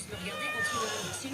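A hungry cat meows in a drawn-out, wavering cry at moderate distance, with people talking over it in a home.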